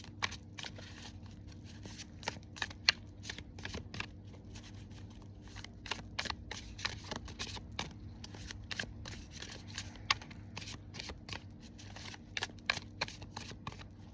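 Tarot cards are shuffled and drawn by hand, giving rapid, crisp riffling and flicking snaps in irregular bursts over a steady low background hum, close and fairly quiet.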